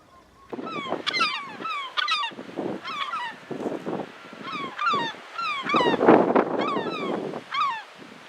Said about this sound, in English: Oh, that's a good goose.